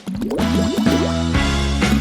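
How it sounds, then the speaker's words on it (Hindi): Watermelon juice drips from a covered bottle into water, a busy run of wet plinks and bubbly drops, fairly loud and close, with no talk. "और इसे पानी में टपकाएंगे।"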